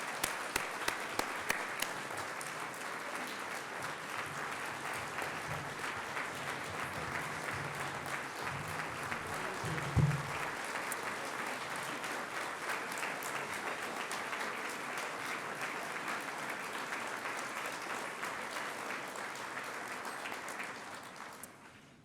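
Sustained warm applause from an evening audience at a Thurgood Marshall celebration welcoming a keynote speaker, dense steady clapping filling the room for over twenty seconds before trailing off.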